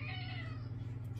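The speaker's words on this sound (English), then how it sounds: "And a cat that thinks I need to give him attention" A male cat wanting attention gives one long, drawn-out meow that rises and then falls, heard close over a steady low hum.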